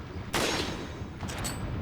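Gunfire in the video game Resident Evil 4: a sharp, loud shot bursts out and rings on, followed about a second later by a second, weaker shot with a bright metallic ping, over a steady game-ambience bed.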